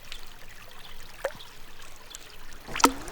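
A small creek trickling through the woods, a quiet, steady water murmur with a few brighter splashes and drips, faint and close, no talking.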